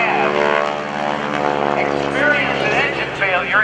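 A propeller aerobatic aircraft performing at the 2015 NAS Oceana Airshow, flown by Bill Leff, drones loudly and continuously, its engine pitch wavering and sweeping as it maneuvers overhead.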